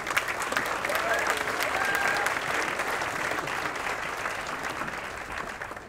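A sustained round of clapping from a seated audience at a university law awards ceremony honoring graduating students, full and even for several seconds with a slight fade toward the end.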